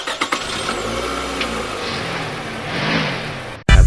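A cartoon car engine cranks and starts, then runs at a steady mid-pitched idle with a slight rev, loud and close with no talking, before cutting off abruptly near the end.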